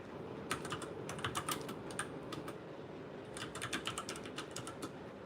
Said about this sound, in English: I'm going to type in Tommy Reacts.